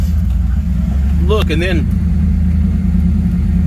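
Car engine running steadily after being switched on, a low continuous hum with cooling fans going, close and loud, while a person talks briefly over it.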